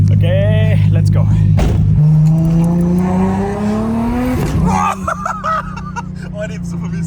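A 1000 hp Toyota Supra at a racetrack trackday drops from a steady low idle into a loud rising acceleration pull, pitch climbing smoothly before a quick shift and backing off, with voices murmuring underneath.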